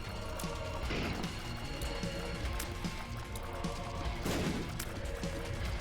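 Bombs go off in The Binding of Isaac, a few sharp blasts rising out of a busy, continuous wash of game noise and music, loud and close with bursts near the start and again later.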